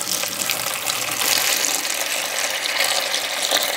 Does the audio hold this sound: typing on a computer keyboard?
no